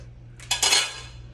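Dog food rattles into a bowl in a short clattering pour that swells and fades over a low steady electrical hum.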